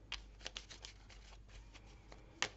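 A deck of tarot cards is cut and handled up close, giving a series of soft, papery taps and flicks at an uneven rhythm, with one sharper snap near the end and no talking.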